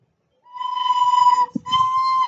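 A steady, clear recorder tone holding the note B, sounded twice with a brief break and a soft thump between, close and moderately loud.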